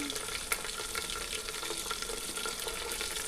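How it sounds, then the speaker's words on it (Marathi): Garlic and chillies fry steadily in a pan for a Marathi amti (dal), giving a continuous close sizzle with a few light clicks and stirring scrapes, and no talk. "लसूण छान व्यवस्थित लालसर झाला की मग यामध्ये मिरची ॲड करायची आहे आपल्याला"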